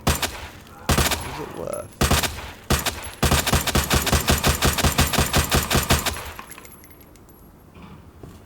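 Gunfire in Resident Evil 2 Remake: a few loud single shots, then a rapid burst of repeated shots that fades out, with glassy clinks and a brief spoken phrase.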